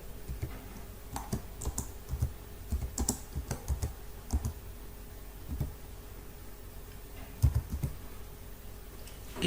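Fingers typing on a computer keyboard, irregular bursts of close, crisp key clicks with short pauses between words, over a quiet room hum.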